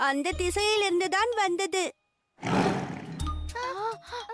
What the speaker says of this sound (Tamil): ஆமாம், அது புலியின் ஒலி அல்லவா?